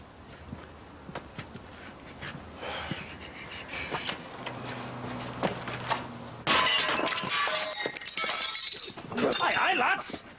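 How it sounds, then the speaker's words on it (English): Window glass is smashed in a domestic scene, a sudden loud bright shattering burst with scattering debris after quieter footsteps and voices. "Do you have to break the window?"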